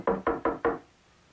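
Four quick, evenly spaced knocks on a door, close and firm, followed by quiet.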